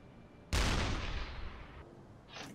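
Submarine deck gun firing in the UBOAT video game, a single loud close blast with a long rumbling decay lasting over a second, followed by a fainter burst.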